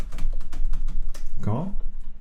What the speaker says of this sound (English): I will type it, of course.